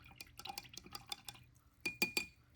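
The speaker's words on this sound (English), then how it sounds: "You can clean your brush" An acrylic paintbrush swished and tapped in a water jar gives a quick run of small clinks and watery dabs, then a few louder glassy knocks near the end, close and without talk.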